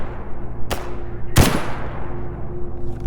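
Bolt-action rifle fire in the S.T.A.L.K.E.R. G.A.M.M.A. modpack: two sharp, loud, separate shots about a second apart, each with a short ringing tail over a steady low hum.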